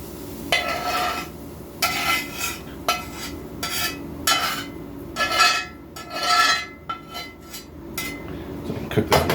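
Steak meat being scraped and moved from a pan into a bowl in a home kitchen, with a series of close, clattering metal-on-cookware knocks and scrapes in irregular bursts.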